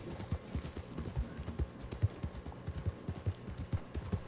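Horse hooves clip-clopping in Red Dead Redemption 2: a steady, brisk run of hoofbeats at close range, faint and rhythmic, with no talking.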